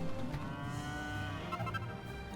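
A cow moos in a long, drawn-out low call in the Dragon Quest 8 video game as a saber cat milks it, loud and steady with no talk.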